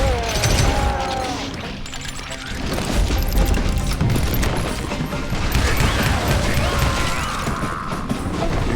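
Loud, dense gunfire rattles through a shootout in the Wild West game Call of Juarez: Gunslinger, with rapid overlapping shots, booms and crashes forming a near-continuous barrage, no talking.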